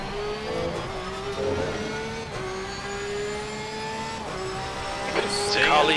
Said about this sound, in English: There's a car leaving the pits.